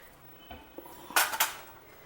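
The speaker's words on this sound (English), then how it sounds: "Give it a good mix." A metal spoon stirs Parippu Pradhaman, a lentil payasam, in a pot after dry ginger powder goes in. Several sharp clinks and scrapes against the pot come in quick succession, close and fairly loud, with no speech.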